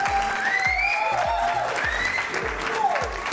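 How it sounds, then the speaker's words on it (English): Canned applause and crowd cheering play from a sound-effect button, filling the space at moderate volume with no break, while a repeating low thump and sliding tones run underneath. "I think he could do with a round of applause,"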